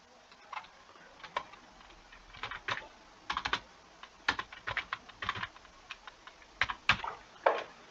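Someone types a school marksheet in Microsoft Excel on a computer keyboard, a close, irregular patter of clicks that comes in quick bursts with short pauses between them, and no one talking.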